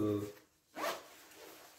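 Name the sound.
zipper of a Canada Goose Woolford coat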